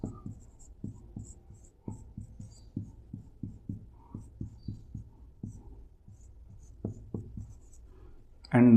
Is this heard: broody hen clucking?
no